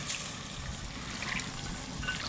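Water poured from above onto lentils in a pressure cooker for dal khichdi, already seasoned with whole cumin, green chilli and ginger; a steady, fairly soft trickling splash runs continuously throughout, with no voices.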